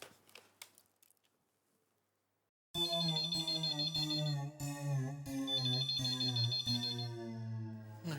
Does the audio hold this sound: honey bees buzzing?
no